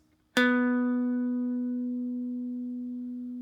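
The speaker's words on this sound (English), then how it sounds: "And then you're just going to pluck the 9th fret of the D string once." One guitar note, plucked at the 9th fret of the D string, rings out clean and close after a brief pause, decaying slowly over about three seconds with nothing else heard.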